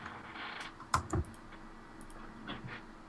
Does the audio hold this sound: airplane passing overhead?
no